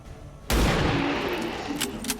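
A sudden loud gunshot burst in XCOM 2, a sharp crack followed by a lingering noisy tail and a couple of quieter later pops.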